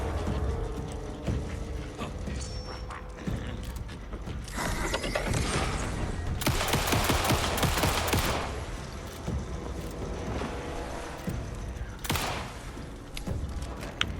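Gunfire in Alan Wake II, a dense burst of rapid shots around the middle with scattered single shots and mechanical clatter before and after, loud and close with no talking.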